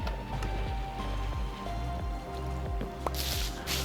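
Water flowing from a dispenser in Minecraft makes a steady, splashy trickle over a continuous tonal background, with a brief bright burst near the end.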